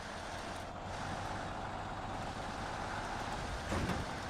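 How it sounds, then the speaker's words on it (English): Truck engine droning steadily as its wheels spin in place on a rough off-road track in SnowRunner hard mode, a continuous low rumbling strain with no break. "Oh, why we're just spinning our wheels there."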